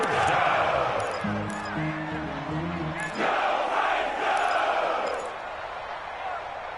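Stadium crowd in a PS4 football video game swells into loud, sustained cheering ahead of a big third down against the Texans, a roar running the whole stretch with a brief lift midway.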